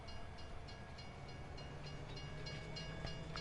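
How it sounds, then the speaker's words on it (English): A train rolls along steadily in Farming Simulator 19, a constant low rumble with faint rhythmic clacking and hum, quiet and continuous with no talk. "We drive the train, maybe?"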